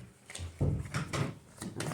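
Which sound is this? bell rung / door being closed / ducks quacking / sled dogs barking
door being closed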